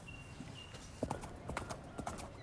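Horses' hooves clip-clopping on hard ground, a loose run of sharp knocks coming in uneven pairs and clusters, fairly close but quiet against a soft outdoor background, with no talking.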